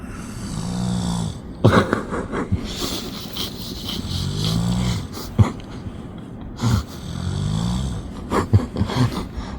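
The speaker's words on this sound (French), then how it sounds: "T'as déjà vu ça, toi, une chenille qui ronfle, mon frère?" A caterpillar inside a cocoon makes a rhythmic snore-like sound, about four slow rasping cycles a couple of seconds apart, broken by sharp clicks and snorts, during a seaside fishing trip.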